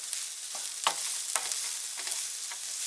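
Onion sautéing in a pan for a chorizo cheesy enchilada skillet, a steady close broadband sizzle with a few soft stirring clicks and scrapes, no voices.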